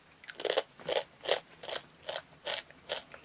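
Crunching on Nu3 chips, about eight crisp bites in a steady rhythm, close and fairly loud with no talking.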